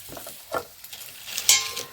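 Fresh leafy greens stirred and sizzling in a pan over a wood fire at a village home, with scraping stirs and a brief louder crackling burst near the end.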